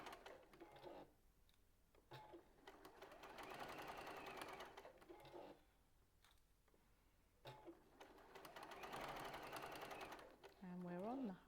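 A sewing machine runs fast stitching through quilt fabric in two long bursts with short pauses between them, each burst giving a rapid mechanical whir with steady clicking, and a voice talks quietly during the pauses.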